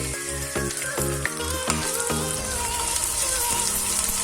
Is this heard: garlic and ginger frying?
yes